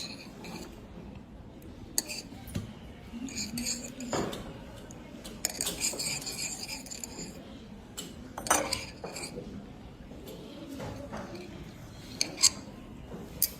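Copper sulfate solution poured onto an egg-albumin sample in lab glassware and stirred, giving scattered glassy clinks and taps over soft background noise, close and moderately quiet.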